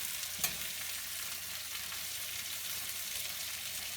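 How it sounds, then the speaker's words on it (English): Meat frying in a pan as it is stirred around: a steady, close sizzle throughout with a brief louder scrape near the start, no talking. "Right now we just finished putting all the meat in, so we're just gonna mix it around and stuff."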